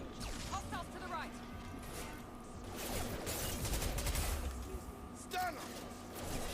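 Gunfire in the video game Mass Effect 2: bursts of weapon fire and impacts mixed with crashing effects and a dense combat soundscape, with voices calling out over the action.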